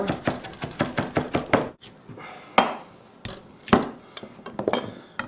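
A knife chops parsley on a cutting board in a quick, steady run of close, crisp knocks, then slows to a few scattered, heavier cuts.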